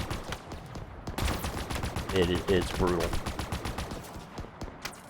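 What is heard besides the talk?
gunfire in the video game Halo Infinite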